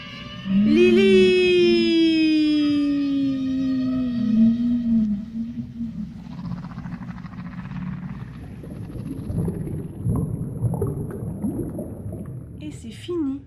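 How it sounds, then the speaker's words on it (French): Long, sweeping whale calls rise and fall in pitch near the start, a loud tonal moan over a low watery rumble that fades into murky background sound. "C'était le chant des baleines"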